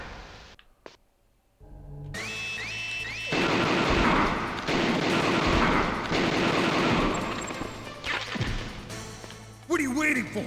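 Rapid bursts of automatic gunfire in the Metal Gear Solid battle against the Hind D, loud rattling volleys over game music and effects, ending in a sharp electronic sting.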